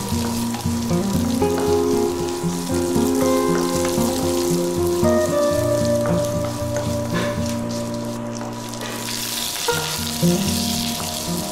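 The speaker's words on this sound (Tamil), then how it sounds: "அப்புறம் அதில் நறுக்கிற வெங்காயத்தை போட்டு லைட்டாக வதக்கிக்கோங்க." Chopped onions sizzle steadily in a hot pan, a continuous close crackle with occasional faint clinks and no voices.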